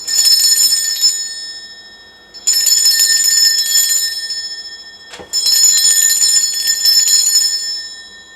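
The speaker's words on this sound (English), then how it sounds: "I'm going to ring this bell." A small bell rung to cleanse a space rings out three times in sustained, bright metallic peals, each decaying slowly before the next strike, loud and close with no speech.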